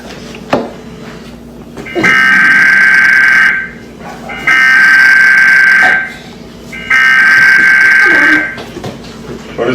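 An emergency alert broadcast tone sounds as three loud, harsh buzzing bursts of about two seconds each, separated by brief gaps, with faint talk between them.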